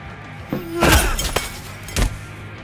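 Glass shatters in The Wolf Among Us, a sharp crash with a breaking burst, followed moments later by a second crunching impact, loud and close.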